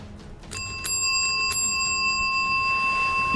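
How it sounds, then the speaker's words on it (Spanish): A hand bell rung during a ghost test gives two or three clear metallic rings. Each ring leaves a long, sustained tone that hangs over quiet room noise. "William toca la campana para que James vea que sí funciona."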